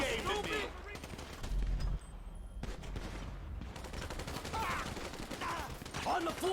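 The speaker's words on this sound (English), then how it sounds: "He's getting shot quite a bit." Rapid bursts of gunfire in GTA 5, dense and continuous, with a steady backdrop of game noise and no speech.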